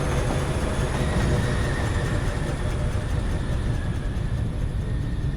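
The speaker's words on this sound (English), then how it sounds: "Even though it's running on electricity, it still has a choo choo thing" A continuous rumbling electric train in the video game Foundry rolls steadily into the station, a dense mechanical roar with faint rhythmic rail clatter sustained at an even, fairly loud level throughout.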